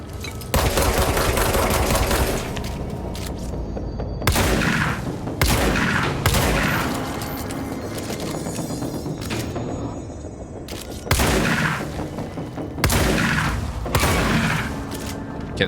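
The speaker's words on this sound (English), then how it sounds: "the shotgun works pretty good on them" Shotgun fire in the video game Control: loud, booming blasts in several bursts, each followed by clattering mechanical and debris-like noise, with brief gaps between volleys and no talking.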